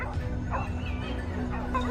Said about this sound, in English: their barking relentless, like the sound of a death toll